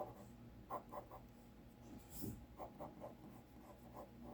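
Pencil drawing on paper for a fantasy comic, a faint series of short rhythmic strokes with a brief scratchier rub in the middle, quiet and close.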